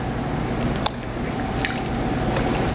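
Almond milk splashed into thick gingerbread pancake batter made with instant pudding, giving soft wet squishes and a few brief drips over a steady kitchen background.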